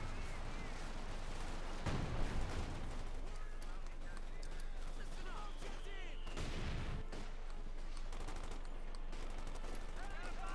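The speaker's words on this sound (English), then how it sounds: "Grenades going off left and right." Grenades and gunfire go off in a Company of Heroes 2 battle, OKW against USF, a dense, continuous din of shots and explosions with heavier blasts around the second and sixth seconds, running under steady commentary.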